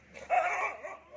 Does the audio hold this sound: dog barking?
yes